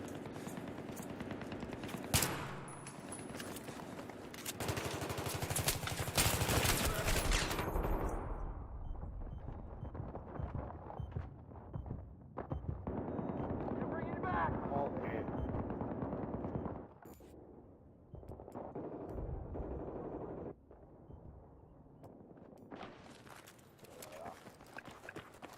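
Bursts of automatic gunfire and single shots in Battlefield 3 on Xbox 360, loud and rapid early on, then sporadic and more distant, with voices shouting under the shooting.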